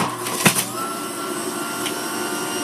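An electric juicer runs on its lowest of three settings, giving a steady motor whine with a brief louder burst near the start, close and loud with no talking.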